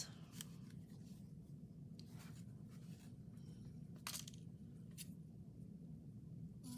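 Scissors snip through frayed, uneven fabric on a handmade journal cover, a string of short close crisp cuts spaced irregularly over a steady low background hum.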